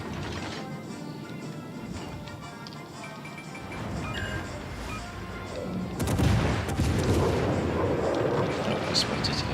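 Naval ship guns fire in the game World of Warships: Legends, with booming salvos and mechanical clanks and turret whirs over a busy battle mix. The firing grows louder and denser partway through.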